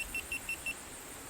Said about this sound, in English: somebody's beeping over there, Ed.